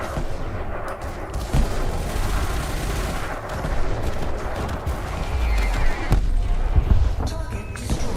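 Weapon fire in a space dogfight in Elite Dangerous: a dense run of loud, repeated blasts and thuds over a rumbling background, with bursts clustering and a few sharper cracks near the end.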